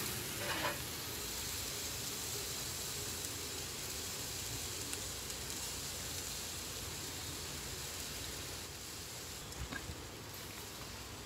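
Baby back ribs sizzle steadily on a grill as they are basted and flipped, a dense, continuous hiss close by with a few brief louder crackles, no voices.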